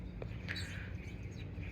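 Wild birds chirp faintly in a backyard garden, with a few brief, distant tweets scattered over a steady low background hum.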